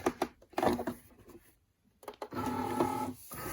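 A Cricut cutting machine feeds in a cutting mat of holographic sparkle iron-on vinyl with close mechanical whirring and clicking bursts, a brief pause, then a steadier motor drone with whining tones.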